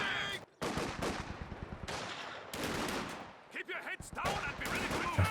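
Mortar and .50 cal machine gun fire in Company of Heroes 2 during a 2v2 match, dense rapid bursts of automatic fire and heavy booms, continuous and layered, with a commentator talking over it.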